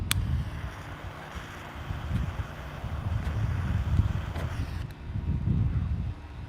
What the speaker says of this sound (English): This wind.